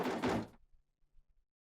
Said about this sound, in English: I brace myself and put my hand on the door.